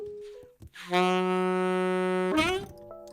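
A single sustained saxophone note, D sharp (E flat), held steadily for about a second and a half, rich in harmonics, with brief breathy sounds before and after.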